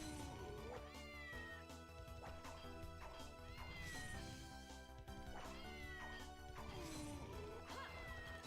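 A cat meows repeatedly in the video game Castlevania Order of Ecclesia, the cries rising and falling over constant loud game music and occasional hits, with no voices.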